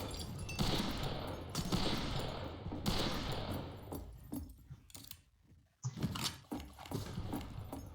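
A Colt Navy revolver in the Wild West shooter Fistful of Frags fires single spaced shots, roughly one every second or two, each a sharp crack with a short tail over quiet outdoor game ambience.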